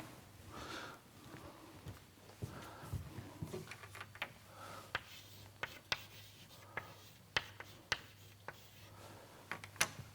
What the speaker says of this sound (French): je vais écrire